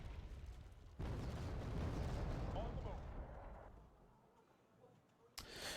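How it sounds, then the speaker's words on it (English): Artillery bombardment in the war strategy game Wargame Airland Battle: heavy booming blasts with dense rumbling debris, loud and sustained in the first half, then fading before another sharp impact near the end. "So far, they only have been bombarding me"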